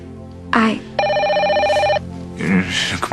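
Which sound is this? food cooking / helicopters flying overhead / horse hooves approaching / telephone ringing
telephone ringing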